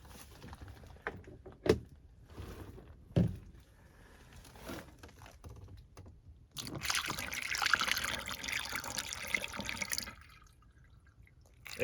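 Water draining down a cleared air conditioner condensate drain line, a soft trickling gurgle with a few sharp drips early on, then a louder steady rush of flowing water for several seconds before it fades back to quiet.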